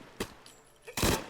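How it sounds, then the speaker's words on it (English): Gunfire from a gunfight in the video game Fallout 4, a brief burst and then a longer, louder volley of shots, sounding somewhat distant. "Sounds like we got a gunfight ahead."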